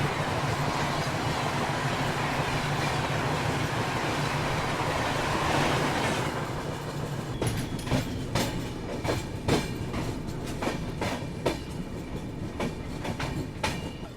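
The Bhubaneswar Rajdhani Express rolls past on Indian railway tracks, a loud, steady roar of passing coaches giving way to sharp, rhythmic clickety-clack of wheels over rail joints, heard close and with no voices.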